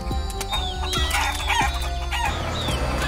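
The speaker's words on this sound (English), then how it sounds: "There's Ben feeding the chickens!" Several chickens cluck and squawk close by in a busy, overlapping chorus, with occasional sharper calls and light knocks.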